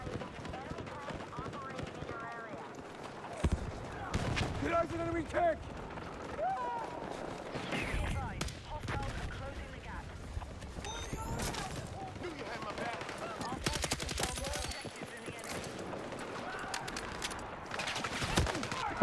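Full-auto bursts of gunfire with recoil in Battlefield 6, rapid cracks in several stretches amid other game noise, with a player talking over much of it.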